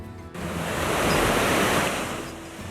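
An ocean wave at Pacific City beach in Oregon swelling and breaking in a loud, broad rushing wash that rises and slowly fades, close and alone.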